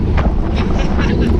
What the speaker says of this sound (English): That thing is just gusting, blowing us.